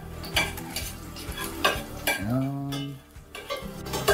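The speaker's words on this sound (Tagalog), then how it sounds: "So, yung bawang ay lulutuin natin." Garlic browning in a pan with a steady sizzle and repeated utensil stirring and scraping, close and fairly loud, with a brief word spoken over it.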